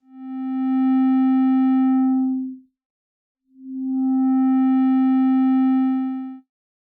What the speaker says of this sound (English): A low path filter subtracts high frequencies and allows only low end through.